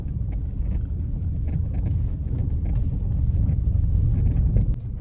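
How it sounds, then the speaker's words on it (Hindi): A car creeps through Dunagiri forest at night at about 5 to 10 km/h during a tiger search, giving a steady low engine rumble mixed with wind noise throughout, with no one talking. "5 10 की रफ्तार पे गाड़ी चल रही है।"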